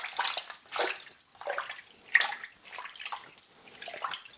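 Wild garlic leaves being washed by hand in a basin of water, soft irregular sloshing and splashing in bursts, close and fairly quiet.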